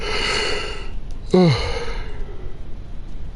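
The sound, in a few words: yawn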